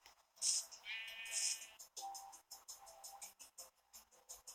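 Sheep bleats from the Minecraft video game, two bright nasal cries close together near the start followed by softer bleats and faint game noises, with no talking.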